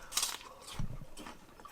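A crisp bite into a Pixie apple, an heirloom-style seedling variety, followed by a few close, moist chewing crunches, alone with no talk.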